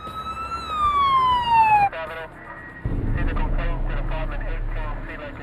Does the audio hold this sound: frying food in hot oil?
no